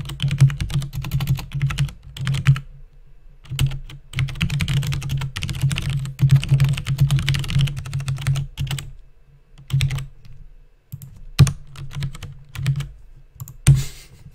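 Computer keyboard keys clatter in quick, uneven bursts while code is typed, with short pauses between runs of keystrokes, close and fairly loud.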